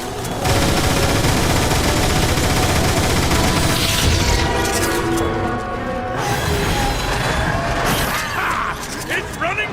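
Rapid automatic gunfire in Transformers: War for Cybertron, a dense sustained fusillade aimed at a creature's mouth, loud and continuous with booming impacts and mechanical clatter, voices shouting over it.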